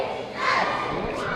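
A high school basketball gym crowd in a half-filled gym during a cheerleader routine, a dense wash of voices swelling into shouts and cheers.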